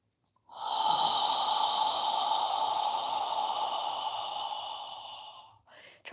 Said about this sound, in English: when you're ready to exhale, exhale through your mouth as you lower your arms and hands back down